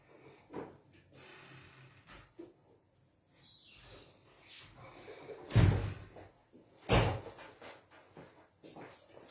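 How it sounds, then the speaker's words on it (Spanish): Indoor door handling with two loud, close knocks or thuds partway through, plus scattered clicks and faint movement noise in a quiet room. "voy a abrir la puerta"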